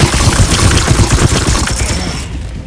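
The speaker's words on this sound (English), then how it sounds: "Now I'm gonna fire the Plague, or I'm gonna shoot at the Plague Bearer again." Rapid gunfire aimed at a Plague Bearer in Warhammer 40K: Chaos Gate, a loud dense burst of booming shots rattling for about two seconds before cutting off.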